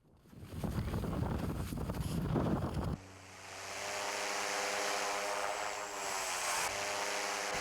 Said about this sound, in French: vous entendez l'avion décoller, le bruit du moteur qui s'estompe